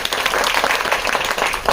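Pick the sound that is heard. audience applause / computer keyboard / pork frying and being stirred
audience applause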